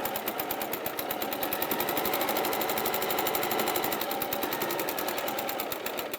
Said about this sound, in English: So I'm just going to go a straight stitch.